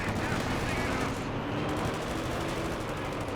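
Tank guns and combat noise from a World War II tank battle video game, with a Panzer IV in the fight, form a dense, loud, continuous roar of battlefield rumble and firing throughout the short stretch, with no clearly separated single shots.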